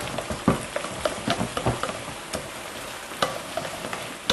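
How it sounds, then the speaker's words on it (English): Eggs stirred into ricotta cheese in a bowl until blended, a run of soft scraping clicks and wet taps at an uneven rhythm, close by and moderately quiet, with no voices. "And you want to mix this really well till it's blended? Yes, just blend that well"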